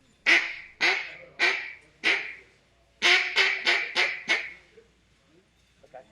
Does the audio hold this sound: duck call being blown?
yes